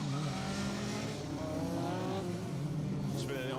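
A rally car spins on a tarmac circuit stage, its engine revving hard with tyre squeal as it pivots, loud and close, while a commentator talks over it.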